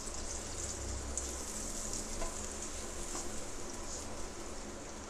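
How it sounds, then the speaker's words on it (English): Two pieces of bread roast in fully melted butter in a pan, giving a steady, continuous sizzle and crackle close by with faint stirring, holding level throughout with no talking. "I will take 2 pieces of bread and I will roast it"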